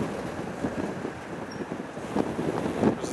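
Gusty wind buffets the microphone outdoors at an airport during plane spotting, a steady low rumble with louder surges near the end, loud and close, with no talk.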